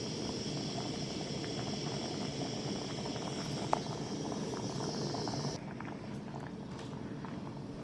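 Rice boiling in a pot of water for a herbal rice shampoo, with a steady, dense bubbling that runs throughout at moderate loudness and eases slightly near the end.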